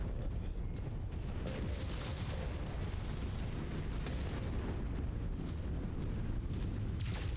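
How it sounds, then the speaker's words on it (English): MechWarrior 5 combat with missiles striking a Black Knight mech: a continuous, dense roar of overlapping explosions and rumbling blasts, loud and sustained throughout. "Some missiles out on the Black Knight"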